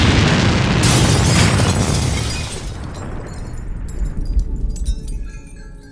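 A gunshot in a Finnish film scene blasts loudly and then decays into a long rumbling tail, followed by scattered clatter, with no talk.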